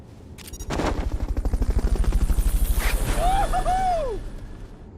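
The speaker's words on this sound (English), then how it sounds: "Fulton recovery helicopter is complete." A Fulton recovery helicopter in the video game Metal Gear Solid: Peace Walker sweeps past with loud, rapid rotor thumps that swell and fade over several seconds, joined by a brief electronic chirping tone.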